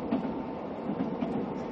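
Seoul Subway Line 6 train running, a steady low rumble and hum of the carriage with faint rhythmic wheel thumps, continuous and fairly close, no voices.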